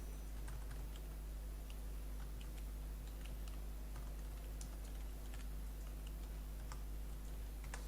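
Someone types PHP code in Visual Studio Code on a computer keyboard, giving soft, irregular key clicks in a steady stream over a low electrical hum, fairly faint and with no talking.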